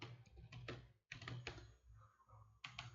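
Quiet, close computer keyboard typing in bursts of rapid clicks with a short pause in the middle, heard alone in a quiet room.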